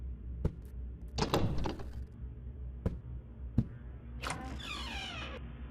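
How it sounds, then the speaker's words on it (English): Knocking tension scare in the horror video game Hunting Ground: isolated hard knocks spaced irregularly, broken by a rattling burst and a scraping creak, over a low steady rumble, with no voices. "here is a little knocking tension scare"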